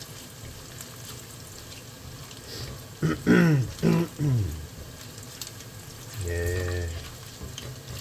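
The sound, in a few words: food frying in grease in a pan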